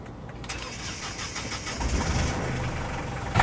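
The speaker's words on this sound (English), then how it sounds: "Cameraman, start the engine." An engine cranks and catches, then settles into a rough, rumbling idle that swells slightly near the end. It is close and fairly loud, with no talking over it.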